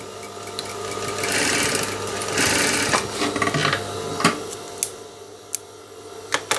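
An industrial sewing machine runs in steady bursts while stitching a pocket, a rapid mechanical whir that stops and starts, followed by sharp clicks and taps of the fabric being adjusted between runs.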